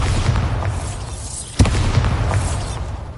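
A Bombarda blasting spell goes off in Hogwarts Legacy as one sharp, loud boom midway through, standing out over a steady low game rumble.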